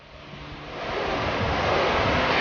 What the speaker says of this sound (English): we redirected our gaze toward the natural beauty of the waves